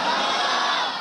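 A large crowd at a Friday sermon in a mosque calls out Subhan Allah together in response to the preacher, a loud, sustained massed roar of voices.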